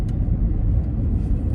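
Two cars pass close together on a narrow one-lane residential road in Canada, giving a steady, loud low rumble of engines and tyres with no gaps.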